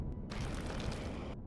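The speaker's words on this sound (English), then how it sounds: "I will create a hole in the ground using my miner" A mining drill grinds into the ground in the sci-fi game Empyrion, a dense, steady churning roar that runs through most of the moment and then cuts off.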